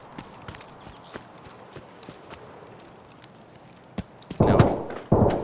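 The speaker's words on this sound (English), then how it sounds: "I definitely heard footsteps then." Footsteps in Escape from Tarkov: a faint run of soft, irregular steps under quiet ambience, followed by two louder, heavier bursts of movement close by toward the end.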